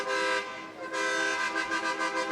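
An 18-wheeler truck sounding its horn at a street parade, a loud close blast, a brief dip, then a second sustained honk with a pulsing tone.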